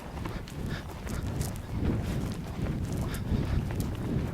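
Hooves of a horse being ridden forward in a schooling session, a soft, irregular thudding footfall rhythm close by under light wind noise, with no talk.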